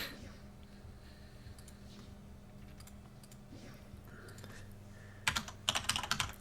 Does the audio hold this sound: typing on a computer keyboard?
yes